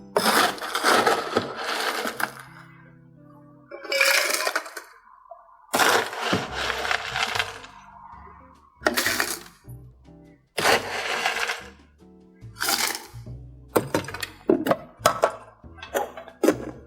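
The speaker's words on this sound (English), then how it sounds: "Now the last thing you add is the ice" Ice goes into a cocktail shaker for a tiki drink in a series of loud, close bursts of clattering and rattling, separated by brief pauses.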